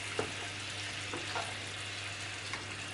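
Honey mint lamb chops sizzling steadily in a pan, a constant close frying hiss with a few faint clinks, no voices.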